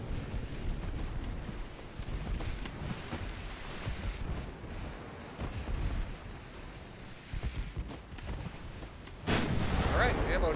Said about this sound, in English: Alright, ammo detonation.